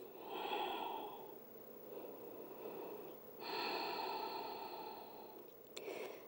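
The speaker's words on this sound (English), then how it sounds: "Ujjayi breathing." Slow, audible Ujjayi breaths during a grounded yoga practice, two long drawn exhalations with a softer breath between them and a quick final intake, close and quiet with no talking.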